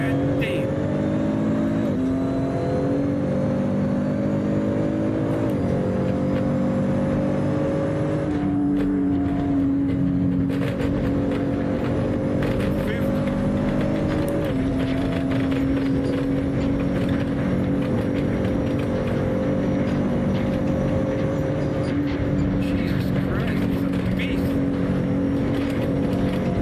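Car engine in Assetto Corsa racing game, pulling away in first gear and climbing through steady revs, a continuous loud drone with gear shifts, while a person talks over it.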